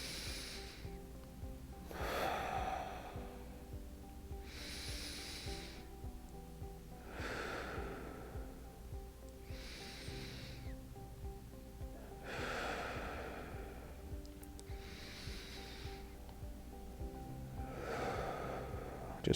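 Slow, deep breathing during a shoulder stretch, about seven or eight airy inhales and exhales at a steady rhythm, close and soft over a faint background hum.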